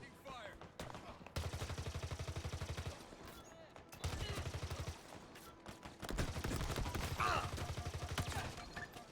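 Gunfire in Halo Infinite, three sustained automatic bursts of rapid, even shots, loud and close, separated by short gaps with faint background noise.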